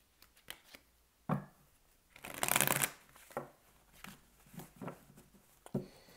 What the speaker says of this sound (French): vous pouvez accélérer pendant que je bats les cartes